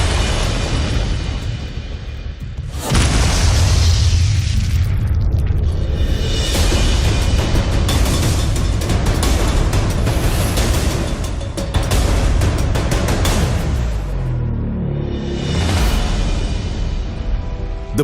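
A huge blasting explosion at the Sasan open-cast coal mine, a deep rumbling roar that swells abruptly and stays loud and sustained as debris settles, heard alone without talk.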